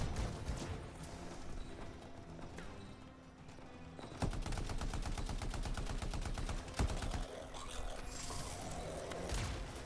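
Rapid automatic turret gunfire in the video game Anthem, a steady loud stream of closely spaced shots starting midway and continuing to the end, layered over game battle noise and other clattering effects.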